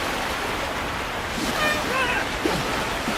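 A canoe slalom boat rides white water in the London 2012 Olympic video game, a continuous loud rush of churning water with faint commentary voices beneath.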